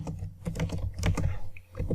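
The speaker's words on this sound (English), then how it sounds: "I just do the keyboard action as Ctrl V" Keys pressed on a computer keyboard for a Ctrl V paste, a quick run of soft, close clicks and taps with uneven rhythm.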